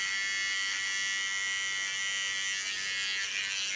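Electric hair clippers buzz steadily and close up while shaving a fine decorative line into the nape of the neck, a continuous high whirring hum with no talk.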